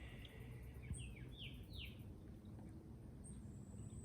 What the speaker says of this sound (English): Look on the beautiful bird that come through.